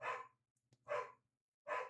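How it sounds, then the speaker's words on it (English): Several dogs bark indoors in three loud separate bursts, each a cluster of sharp barks, with short quiet gaps between them and no talking. "My dogs are barking."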